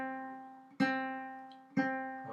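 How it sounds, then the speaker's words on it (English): A guitar sounds the note C on the second string at the first fret. Two clear plucks come about a second apart, and each rings and slowly fades, with no talking. "And it sounds like that. That is the sound of C."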